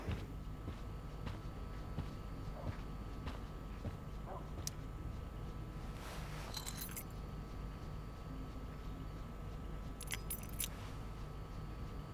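Keys jangling in the video game Life is Strange: Before the Storm, faint scattered clinks over a low background hum, with brighter jingling bursts around the middle and near the end.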